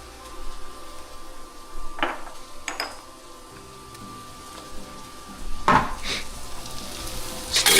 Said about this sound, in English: Stir this up. Make sure it's not burning.